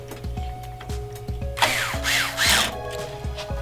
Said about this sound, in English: Just until the screwdriver says it's tight enough